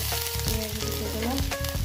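Onion frying in a little oil alongside garlic, a dense, close sizzle hissing continuously, with faint stirring or scraping in the pan and no talk.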